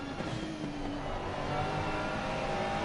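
A GT3 race car, a Ferrari, downshifts through a corner on the Nürburgring Nordschleife in Assetto Corsa Competizione. The engine drones steadily and loudly at high revs, with a continuous close mechanical roar and no talk.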